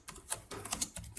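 Fingers typing a test report on a computer keyboard, a brief run of crisp, close key clicks in an uneven rhythm.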